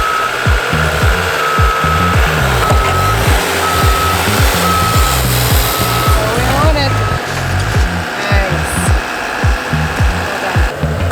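A heavy machine's reversing alarm beeps in a steady repeating pattern as a bobcat guides a 40-foot seacan in minus 20 cold, loud and close over rumbling engine noise and a faint whine.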